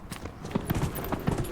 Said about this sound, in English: Well, I'm riding the horse.